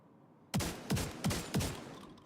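Four evenly spaced, punchy gunshots from a weapon in The Division 2 ring out close and loud after a short quiet lead-in, each with a brief decaying tail.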